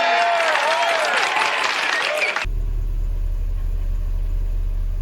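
A car engine that has just fired up idles and surges unevenly as it searches for a steady speed, a loud low rumble running steadily after a brief burst of other noise.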